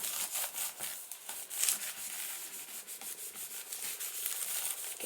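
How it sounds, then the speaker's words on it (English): Paper is rubbed briskly back and forth over a stencil in a craft project, a steady rhythmic scratchy swishing with repeated strokes, close and moderately loud, with no speech. "give that a good rub."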